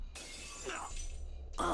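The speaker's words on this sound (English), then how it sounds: "My swords shatter" Twin swords shattering in the video game Fate/Stay Night: a single crisp glassy burst that breaks apart and fades over a low hum, followed by a brief bright clink.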